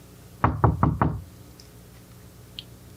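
Four firm knocks on a door in quick, even succession, close and loud, followed by quiet with a couple of faint ticks.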